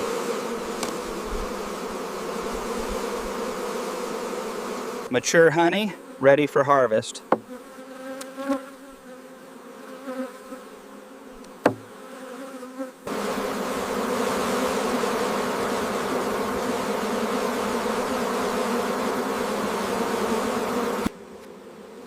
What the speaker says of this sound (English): The industrious Apis mellifera colony works in perfect synchronization, with thousands of bees returning with vital golden pollen.